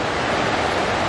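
The Santiam River rushes past Whispering Falls campground in the Pacific Northwest, a steady broadband roar of flowing water, loud and even with no breaks or voices.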